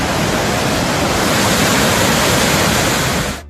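Loud, steady roar of rushing river water at Hogenakkal falls, a dense, continuous wash close by with no voices, cutting off abruptly at the end.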